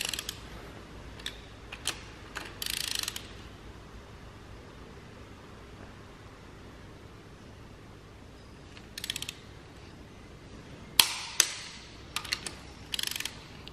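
A wrench tightens bolts on an engine to torque spec in short bursts of quick ratcheting clicks separated by quiet pauses, with a louder cluster of clicks toward the end.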